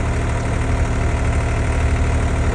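A 4x4 tractor engine running on a trip through Ladakh, a loud, close, steady rumble with a rapid low throb, heard alone.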